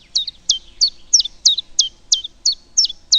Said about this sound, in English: This is their song, hence the bird's English name, that faintly resembles a repetitive two-note violin